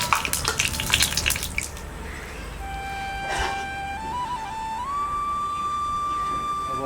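A roti fries in ghee just after being flipped. A crackling sizzle is strongest at first, then it thins out beneath a steady whistling tone that steps upward in pitch.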